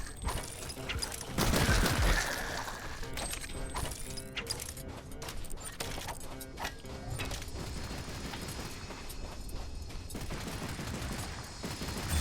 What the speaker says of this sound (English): Somebody shooting me over there, what the hell?